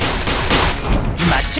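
A dense, loud barrage of gunfire erupts in the Limbus Company video game, heavy overlapping shots blending into a continuous roar with brief swells, close and unbroken throughout.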